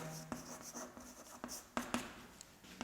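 Chalk or marker writing on a board during a physics lecture, a quiet series of close scratches and taps in an irregular rhythm, with no talk.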